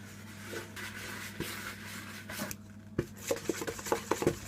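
Wooden spoon scraping and tapping through a thick chocolate squares mixture in a bowl, soft rubbing strokes that turn into quicker, clearer knocks toward the end, close up with no talking.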